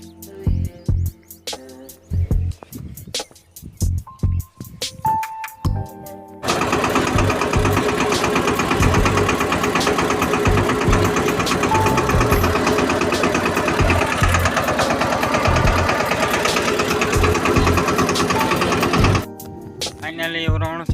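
Three tractors working a farm field at dawn to build soil ridges: after a few scattered knocks, a loud, steady engine drone takes over and runs unbroken for most of the stretch before cutting off near the end.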